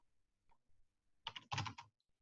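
Quick bursts of keystrokes on a computer keyboard, a few light taps followed by a dense flurry of clicks, close and crisp in an otherwise quiet room.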